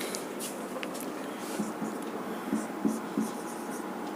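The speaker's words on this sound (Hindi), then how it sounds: "तो चलिए लिखते हैं इसको" Pen or chalk writing on a board during a chemistry lesson, heard as faint scratchy strokes in short bursts over a steady room hiss, with no voice present.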